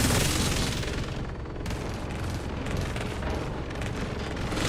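A light machine gun fires continuously in a video game, a dense, loud roar of rapid shots that keeps going for several seconds without a break.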